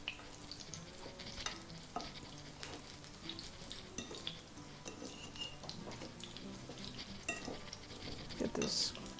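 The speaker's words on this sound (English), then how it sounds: "you don't want this to be submerged in fat, but just enough to bubble all around" A breaded pork chop fries in a shallow layer of fat, sizzling and bubbling steadily up close, while utensils scrape and clink against the pan now and then.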